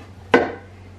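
A big knife and fork scrape and knock once against a pot while seared beef is lifted. The single sharp clink fades quickly.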